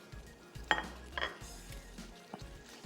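Tomatoes stirred into Kashmiri pulao in a pot, with a spoon scraping and clinking against the metal a few times at an irregular pace over a faint sizzle, close-up and fairly quiet.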